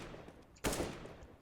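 A single loud, close gunshot from a rifle in the game CSGO during aim training: one sharp crack that rings out and decays over half a second, with no talking.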